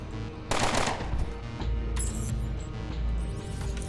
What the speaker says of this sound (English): I just realized Gorski's using an assault rifle.